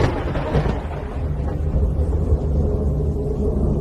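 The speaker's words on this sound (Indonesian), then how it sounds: "diiringi dengan guludug dan beberebetan petir" Thunder rumbles at night with crackling lightning, a deep rolling roar that swells at the start and then keeps grumbling steadily in the background.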